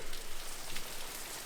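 Heavy rain pours down outdoors, a steady dense hiss of drops drumming on every surface at close range, soaking everything with no voices over it.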